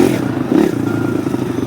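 Motorcycle riding along a dirt track, its engine droning loud and close with a steady low rumble, a brief surge in revs and some clatter and scraping from the ground.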